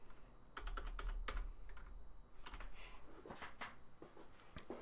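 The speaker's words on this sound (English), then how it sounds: "Let me type something." Keys clack on a computer keyboard in quick irregular bursts with short pauses between runs, close and fairly quiet, with no talking over them.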